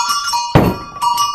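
A bell on a Gascon ox yoke (surjoug) rings out once, close and bright, with a sharp knocking onset and a lingering metallic resonance, followed by fainter ringing tones.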